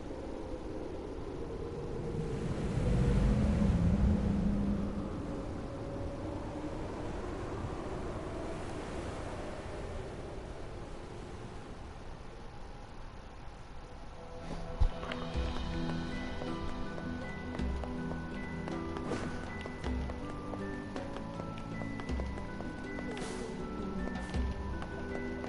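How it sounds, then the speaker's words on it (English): Ominous wind in NieR Replicant near a shipwreck: a steady hollow whoosh that swells early on, then sits under faint tonal music and light clicks for the rest of the stretch. "Those ominous wind sounds."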